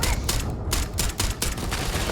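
Rapid gunfire in the space game Starfield, dense bursts of shots crackling one after another for about two seconds, loud and close with no talk.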